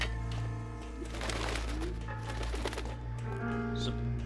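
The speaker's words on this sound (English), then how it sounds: "It's a big pigeon coop." Pigeons cooing in a large pigeon coop in the video game L.A. Noire, soft low coos repeating over a steady background hum, fairly close and gentle.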